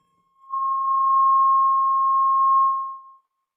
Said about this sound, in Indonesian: Alarm tanda berhenti.